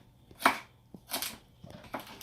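Knife chopping vegetables on a cutting board for Mexican-style chicken soup with rice, several separate crisp chops spaced apart, close and clear with no talk.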